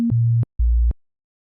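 Synthesizer playing the root note A sharp, two short, low, pure sustained tones, the first preceded by a brief higher blip and the second slightly lower, with silence between and after.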